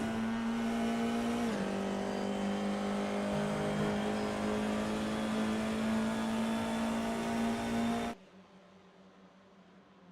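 Race car engines in a GT-F sim racing game drone loudly and steadily, with a pitch shift near the start, then cut abruptly to near silence for the last two seconds.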